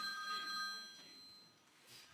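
Somewhere among theater seats a cell phone rings with a thin, distant electronic tone, quiet and steady against the low ambience of the audience.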